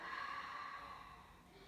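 A single soft, breathy exhale through the nose or mouth during a power yoga vinyasa flow. It is faint and airy and trails off over under two seconds.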